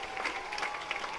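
A baseball crowd at an IBL championship finals game in Barrie applauds pitcher Juan Benitez, scattered clapping and cheering at a distance, fairly faint and steady.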